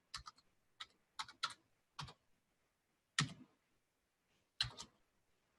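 Login details typed on a computer keyboard, quiet close key clicks in short irregular bursts with pauses between them and no talking.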